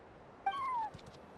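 A cat in the video game Genshin Impact gives a single short, clear meow with a rising then falling pitch, fairly quiet against a calm background.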